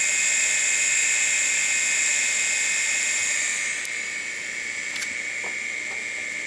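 An old SCSI hard drive booting up, running with a loud, steady high-pitched whine and whir that later eases slightly, with a few faint clicks near the end and no talk.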